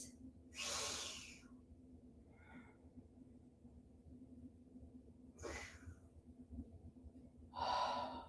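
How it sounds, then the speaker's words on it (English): Slow, deep breaths during a yoga session, three audible inhale-exhale rushes spaced a few seconds apart, close and quiet with near-silence between them and no talking. "take 3 deep breaths"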